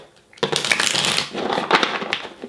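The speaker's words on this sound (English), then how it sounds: "I'm being guided to shuffle tarot first" A tarot deck shuffled by hand, a close, crisp riffling flutter of cards that starts after a short pause and runs in two bursts with a brief dip between.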